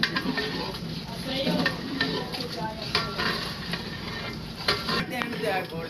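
A large daig pot of chicken biryani rice is stirred in a factory kitchen, producing a continuous scraping, sizzling wash of sound with rhythmic strokes of the ladle, dense and fairly close.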